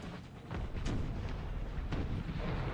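Demi-cannon artillery fires in a battle in Empire: Total War, a series of heavy booms and rumbling blasts that overlap into a sustained, moderately distant barrage.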